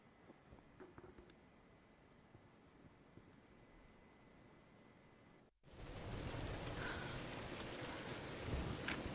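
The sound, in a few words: storm rain and thunder in video game Tomb Raider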